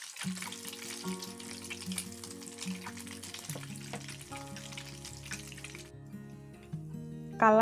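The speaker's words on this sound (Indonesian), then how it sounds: "lalu mulai goreng sosis solo yang udah dibalurin pakai telur tadi" Solo sausages, rolled and filled with chicken and coated in egg, fry in hot cooking oil with a steady, close, bright sizzle that drops away near the end, leaving a quieter hiss and a short knock.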